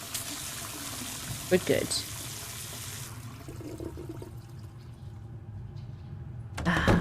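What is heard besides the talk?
running water from bathroom tap in Penelope Pendrick video game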